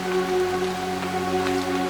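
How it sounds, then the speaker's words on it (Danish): Heavy June raindrops pelt the ground in a steady, dense patter, loud and continuous with no voices over it. "Bombardementer af tunge dråber fra oven"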